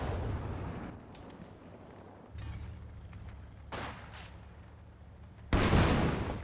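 Gunfire and explosions in Company of Heroes 2, a half-track attack on an intersection, with rumbling blasts and a sharp heavy boom near the end.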